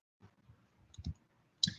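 Soft mouse clicks select an option from a drop-down list, a few faint taps spread over under two seconds, ending with a slightly sharper click.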